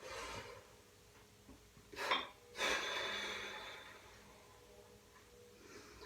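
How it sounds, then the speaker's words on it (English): Deep breaths drawn in and pushed out before a chest workout set at the gym, two forceful close-up inhales and exhales standing out over quiet background noise. "try to breathe in 2 or 3 times as deep as you can, and then start the set"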